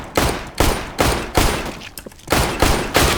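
Glock pistol firing in burst mode in CS:GO, loud close gunshot bursts repeating at a steady rhythm of about two per second, with a brief gap midway before the bursts resume, no talking.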